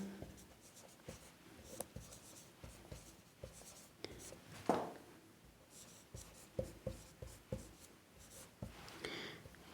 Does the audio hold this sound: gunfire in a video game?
no